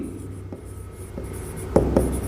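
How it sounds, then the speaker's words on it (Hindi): Pen scratching across paper as accounting entries are handwritten, soft intermittent strokes with a couple of firmer taps near the end, close over a low steady room hum. "मैं थोड़ा शॉर्ट लिखने की कोशिश कर रहा हूँ"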